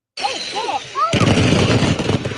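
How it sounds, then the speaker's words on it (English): A small-town fireworks display in Leadwood going off prematurely: whistling rockets rise over a hissing crowd, then a sudden loud burst of dense crackling explosions carries on to the end, with voices mixed in. "This is a fireworks display turned to chaos in the small town of Leadwood, about an hour south of St. Louis."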